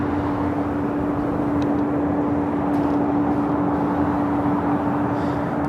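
Airliner at LAX airport producing a steady, loud broadband roar with a constant whine running through it, unbroken for the whole stretch with no voices.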